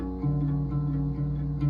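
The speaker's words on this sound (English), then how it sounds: "it's just going to be the 2nd fret with that top string" A single plucked guitar note rings out and sustains steadily, clear and close, with no voices.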